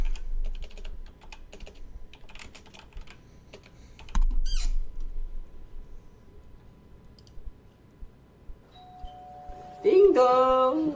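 A doorbell ding-dong sounds in the video game Apollo Justice: Ace Attorney, heard amid steady computer keyboard typing and clicking, with a brief chime partway through and a louder tonal burst near the end.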